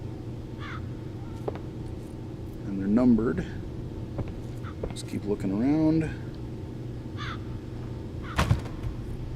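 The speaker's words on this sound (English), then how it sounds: "some birds here" Crows caw twice in a game room full of caged birds in the VR horror game The Assembly, harsh calls rising over a low ambient hum while someone talks intermittently.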